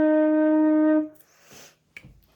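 A flute sustains low E flat below the staff as a clear, steady tone for about a second, followed by soft clicks and rustling.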